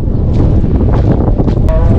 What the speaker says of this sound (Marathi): हवा किती सुटली मी तुम्हाला दाखवतो.